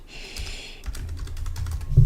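Keys clatter on a computer keyboard while a filename is typed: a quick, uneven run of close, crisp clicks that grows denser and firmer toward the end, with no voice over it.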